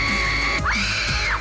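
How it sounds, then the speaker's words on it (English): A person screams once during a live Doctor Who afterparty show, a loud, high-pitched cry that rises and then falls over about a second above a steady background hum. "Who screamed?"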